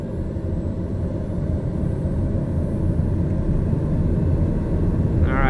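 Small propeller airplane engine running at full throttle for takeoff, giving a loud, steady roar that builds slightly as the plane picks up speed.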